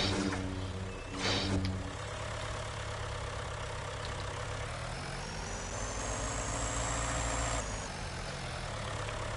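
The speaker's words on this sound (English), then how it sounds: "I'm drifting the X748 garden tractor" A John Deere-style X748 garden tractor in Farming Simulator 19 runs its engine steadily with a low, even drone, idling and working without break while the mower drifts around.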